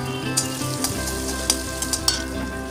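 Curry leaves, green chillies and carrot slices sizzle steadily in hot oil for Maharashtra-style kanda poha, with a few soft stirring clinks over the constant frying crackle.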